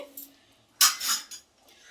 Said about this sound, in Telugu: మూత పెట్టేసి చూడండి